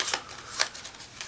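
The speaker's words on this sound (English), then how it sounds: "You want to shuffle them up" Joking Hazard playing cards get shuffled by hand in quick riffling bursts, three or four crisp flutters close by, with no voices.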